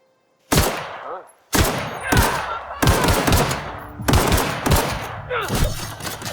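Gun in The Outer Worlds fires several sharp, loud shots in quick bursts, each followed by a short ringing tail, with a clean near-silent gap after the first shot.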